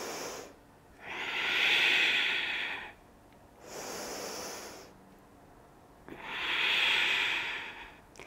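Slow, audible breaths during a hip mobility exercise, with long hissing exhales alternating with shorter inhales, close and clear with no talking.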